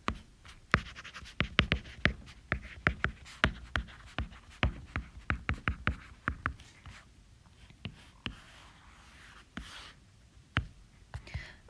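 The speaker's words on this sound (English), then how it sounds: "So I'll go ahead and write that at the bottom" A marker or chalk scratching across a classroom board, a dense run of short sharp strokes and taps that thin out and grow sparser toward the end, fairly close under quiet room tone.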